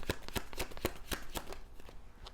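A deck of trading cards is shuffled close up, a rapid run of crisp riffling bursts repeating for a couple of seconds with no talking.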